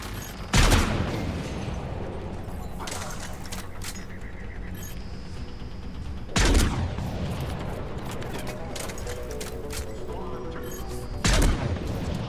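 Gunfire from a sniper rifle in Mass Effect 3, three loud single shots spaced several seconds apart over a steady game soundscape, each a sharp broadband crack with a short tail.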